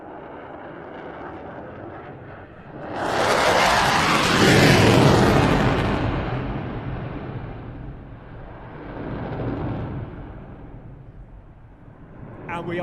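An F-16 fighter jet powered by a General Electric F100-229 engine roars past at an airshow, swelling to a loud, broadband blast before fading into a distant rumble that rises again briefly.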